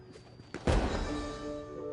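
Toy fireworks launched during Lantern Rite in Genshin Impact: a soft thump followed by a louder burst that fades into a sustained sparkling shimmer with ringing tones, fairly close and without speech.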